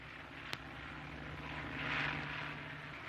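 A propeller airplane bound for Berlin gives off a low, steady engine drone that swells slightly midway, with a single sharp click near the start.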